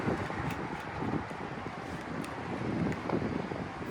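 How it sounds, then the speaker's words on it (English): Cold wind blows outdoors at a car wash, a steady rough rumble buffeting the microphone with gusty swells throughout. "Got a cold wind as well."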